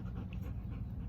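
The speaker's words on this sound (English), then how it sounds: "that's Minky, if y'all can hear that breathing heavy" Minky the dog pants close by, a fast, steady run of heavy breaths that fills the whole moment without pause, no voices alongside.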